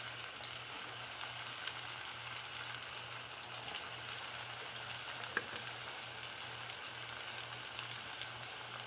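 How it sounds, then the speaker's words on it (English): Plantain slices frying in hot oil in a pan, giving a steady, even crackling sizzle with faint pops, heard alone at a moderate, close level throughout. "This is going to fry for about 4 to 5 minutes."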